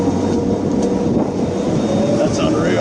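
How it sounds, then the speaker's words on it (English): A drone flies overhead with a steady, loud, broadband whirring hum that stays constant and close throughout. "He sent out the chopper. That's a drone."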